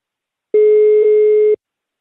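A telephone busy signal follows a hung-up call: one steady, loud electronic tone lasting about a second, alone in silence.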